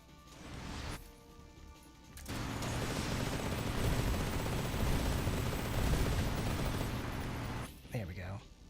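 Gunfire in Metal Gear Solid Delta: Snake Eater, a dense stretch of rapid shots and crashes lasting several seconds between quieter gaps, with someone talking over the game.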